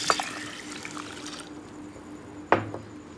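Water poured over lentils set to soak for haleem: a brief splash at the start, a quiet trickle, then a sharper second splash, all close by and fairly faint.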